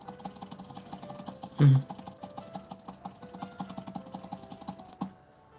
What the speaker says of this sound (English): I might actually just sit here for like 5 minutes and just click the money button